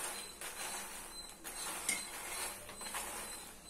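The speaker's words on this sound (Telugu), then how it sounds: "మఖాన్ బాగా గీలో ఫ్రై చేసుకోవాలన్నమాట." Fox nuts (makhana) frying in ghee in a pan over a medium flame, a soft steady sizzle with scattered light clinks and scraping as they are stirred, close and fairly quiet, with no talk.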